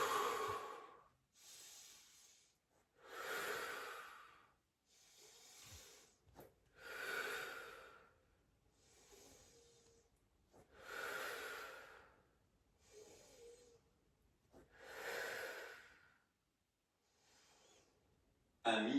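Slow, audible breaths during an advanced wall Pilates session, about eight long hissing inhales and exhales in a steady rhythm, close to the mic with quiet pauses between them.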